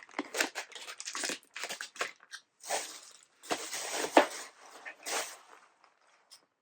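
A crunchy better-for-you snack treat being bitten and chewed up close, with repeated bursts of crisp crunching separated by short pauses.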